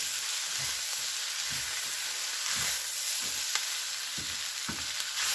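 Food sizzles steadily in a hot pan while it is stirred and mixed, with scraping strokes at a regular rhythm, close and fairly loud, with no talking.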